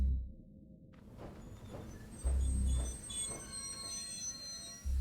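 A train in the video game Cassette Beasts, during the King of Nothing fight, rumbles steadily with high metallic squealing tones above, its low thumps surging at moments over a continuous background.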